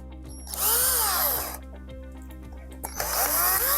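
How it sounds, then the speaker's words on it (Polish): Cordless screwdriver driving screws into the solenoid valve of a DeLonghi espresso machine: two loud whirring bursts of the motor ramping up and down, separated by a quieter stretch of ticking clutch clicks. "Uważajcie, żeby nie opierdzielić wkrętów wkrętarką"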